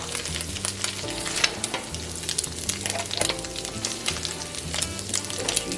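Eggs scrambling for Panda Express-style fried rice in a hot pan, a steady close sizzle with busy stirring scrapes and clatter throughout, no talking.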